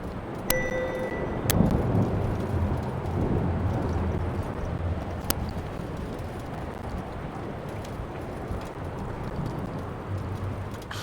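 Steady storm rumble and rain wash fill the scene in Return to Grace, with a few sharp cracking strikes early on and a low continuous roar throughout.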